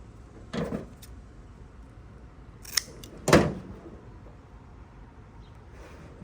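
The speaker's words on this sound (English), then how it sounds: "I'll cut it a little bit longer than my wire so it doesn't get too short" Scissors cut a length of high-heat heat-shrink tubing for electrical wiring: a couple of crisp, close snips, one soft and two sharper, with quiet pauses between.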